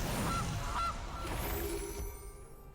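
A cartoonish goose honk from a Golden Goose card in a digital card game, two short nasal honks early on followed by a lingering reverberant tail, loud and clear with no talking.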